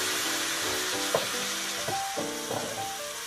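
Rice wine hits a hot oiled pan of mushrooms and sizzles steadily as the food is stirred. A few scraping stirs and soft clacks of a utensil sound close up.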